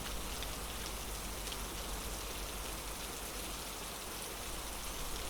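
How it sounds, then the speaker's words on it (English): Fierce storm rain pours down in a dense, steady hiss of countless drops drumming on surfaces, loud and unbroken throughout with no other sounds. "The rain poured down in torrents, and the winds howled like wild beasts."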